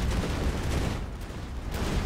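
Cannon shots and battle noise in the real-time strategy game Rise of the Reds, a dense rumbling barrage that stays loud and continuous for about two seconds.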